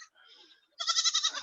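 Goats in a barnyard bleat close by: a faint, wavering call first, then a louder, trembling bleat that ends the moment.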